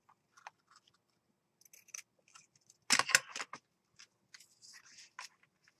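Scissors snip through a small piece of ivory lace, a few quiet separate cuts and then a louder burst of crisp snipping in the middle, close up with no voices.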